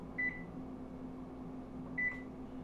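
An oven control beeps twice, about two seconds apart, each a short clear tone over a steady low hum in a home kitchen.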